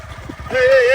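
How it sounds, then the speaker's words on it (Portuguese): Motorcycle engine revving up to a steady, loud drone after a brief stretch of low rumble and indistinct talk. "Liga essa moto aí."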